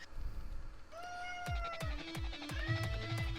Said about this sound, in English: Oh, hello, cat.